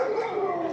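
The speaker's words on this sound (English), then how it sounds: "Everybody's got dogs in the suburbs here, eh?" A single sustained howling bark or whine from a dog in a suburban neighborhood, close and steady for under a second.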